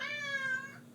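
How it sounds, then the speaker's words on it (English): A cat meows off to the side in a long, insistent, harmonic cry that rises and trails away, fairly close and clear with no talk over it. "There's a cat yelling at me off screen."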